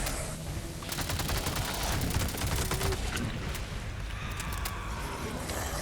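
Rapid submachine gun fire in a video game, a dense run of quick shots rattling close and loud for several seconds, with heavy rumbling effects beneath.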